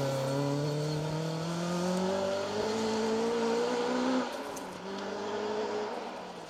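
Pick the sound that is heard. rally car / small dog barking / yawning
rally car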